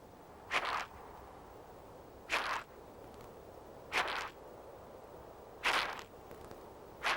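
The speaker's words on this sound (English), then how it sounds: "When alarmed, the huge insect makes such a loud, rasping noise, other creatures give it a wide berth." A large flightless grasshopper gives a loud rasping alarm call, five separate harsh buzzing bursts about every second and a half, close and clear against a faint background hiss, no talking.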